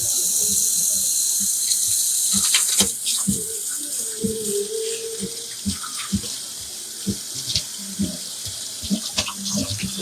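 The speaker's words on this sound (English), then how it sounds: "Let me wash my hands" Water runs steadily from a kitchen sink tap as hands are washed, a continuous hiss with small splashes and clinks over it, close and fairly loud.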